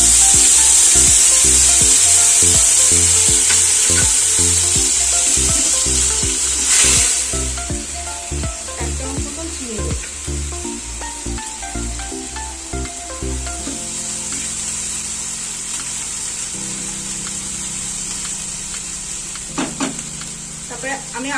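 Spice paste with Kashmiri chilli powder and salt sizzling loudly in a hot pan while a spoon scrapes and stirs it in repeated strokes, the frying hiss steady and close throughout.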